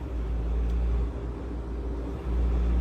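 An old Mahindra Scorpio engine rumbles low and steady inside the cabin, swelling in two short revs mid-way before settling back, close and moderately loud with no talk over it.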